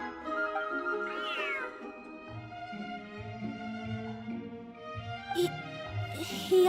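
A cat in a video game meows a few times over a steady layered music bed, the cries short and upward-sliding, fairly clear against the soundtrack.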